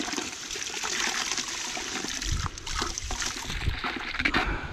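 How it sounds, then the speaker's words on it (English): Water pours and splashes steadily over gold prospecting equipment, an Oz Wash Deluxe high banker, during a wash-down; a continuous close rushing spray with brief surges. "Give that a good wash down in case anything stuck to it"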